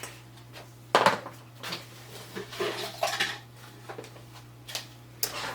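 Philodendron plant pots in 4-inch and 6-inch sizes are handled and set down, giving scattered light clacks and knocks at irregular intervals with quiet pauses between them and no talking.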